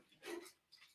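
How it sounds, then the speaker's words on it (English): A dog named Buttercup makes a brief, faint, breathy bark or whimper with panting, heard at a distance against a quiet room. "Buttercup, hush, because you're not gonna do nothing but just bark."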